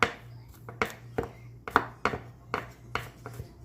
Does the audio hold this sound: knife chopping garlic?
yes